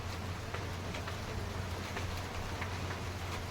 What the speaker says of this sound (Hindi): बारिश शुरू हो गई है बच्चों यहाँ तो